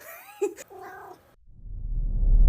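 A pet cat gives a short, vocal meow-like cry near the start, followed by quiet and then a low, rising rumble.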